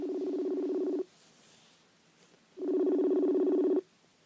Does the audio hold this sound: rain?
no